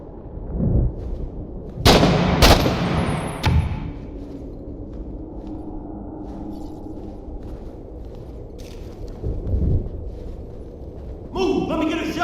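Gunfire in a shooter video game: two close, loud shots in quick succession followed by a third, with fainter thumps later, under intermittent speech.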